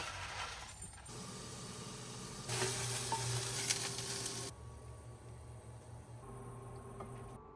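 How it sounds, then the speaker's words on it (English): Tofu simmering in a cashew korma sauce, a steady soft sizzle and bubbling patter that swells louder midway then settles back, close by with no talk. "I'm going to simmer some tofu in it"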